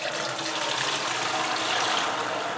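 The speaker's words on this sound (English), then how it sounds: "Basically all I'm going to do is dip the liquid out" Fermented liquid is scooped from a fermenter with a sieve bucket, giving a continuous loud splashing, pouring rush of water without any talking.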